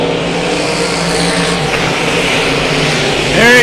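Limited modified race cars roar into turn 3 at Battleground Speedway, a loud, steady engine drone that swells near the end as the pack passes close.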